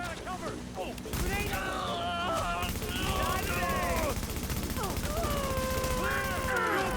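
Repeated gunfire from shooting several enemies in a video game, rapid bursts running under a steady stream of talk and game voice lines throughout.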